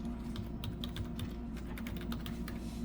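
Rapid typing on a computer keyboard during a math lecture, a dense run of close, crisp key clicks over a low room hum with no talking.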